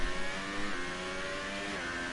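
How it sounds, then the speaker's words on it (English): Renault race car engine in a racing game held at high revs near 205 mph before a braking zone, a steady loud harmonic whine with rising tones and no talk. "It does, revs it out 205 miles per hour before the braking zone."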